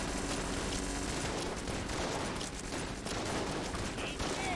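Dense rapid gunfire in the video game Enter the Gungeon, a continuous barrage of overlapping shots and bullet effects mixed with game music, steady and busy throughout.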